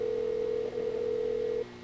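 A telephone in a mystery video game set in an old cinema, giving a steady, unbroken dial tone for about a second and a half before it cuts off, leaving a faint hum.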